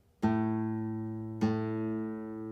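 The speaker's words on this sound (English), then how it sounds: "place our finger on the 5th fret of the 6th string, and that's going to play an A note" Two plucked guitar notes, an A on the sixth string at the fifth fret, each ringing out with rich harmonics and slowly decaying; the second pluck comes about a second after the first.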